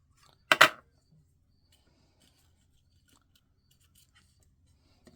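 A single quick snip of scissors through paper while making a stamped autumn card, a short close burst with two cuts close together, then quiet.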